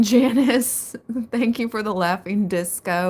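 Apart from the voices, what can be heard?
No everyday noises stand out.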